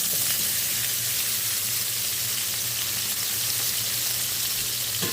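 Potatoes sizzling in hot oil spread across a pan for a Saturday breakfast, a steady, dense frying hiss with a low hum beneath, close and continuous throughout.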